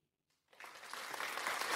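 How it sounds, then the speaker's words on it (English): During a podcast interview, a studio audience bursts into applause after a brief silence, and the clapping builds quickly to a steady, full level. "Everybody's clapping on that one."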